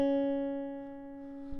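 A single guitar note, played with the ring finger on the B string at the 2nd fret, rings out clearly and sustains, decaying slowly before a faint touch at the end.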